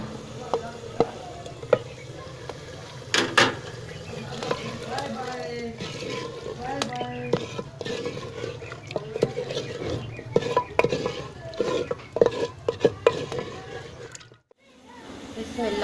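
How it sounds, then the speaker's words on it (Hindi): Boiled mutton goes into a pot of cooked masala and gets stirred, with wet squelching, gentle sizzling and scraping of a spoon against the metal pot, close and continuous, a brief near-silent dip near the end. "अब इसमें गोश्त डालते हैं।"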